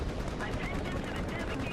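In War Thunder, a BMP-2 fires on an XM-1 tank in rapid bursts of cannon fire. The shots come off to one side and a little distant, dense and rumbling without pause through the short stretch.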